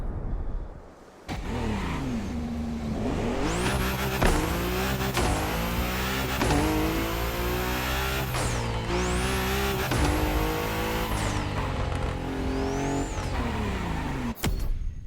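A car in the racing video game The Crew Motorfest drives and revs hard, engine pitch climbing through several gear changes with repeated upshifts and brief dips, loud and continuous for about fifteen seconds, no talk over it.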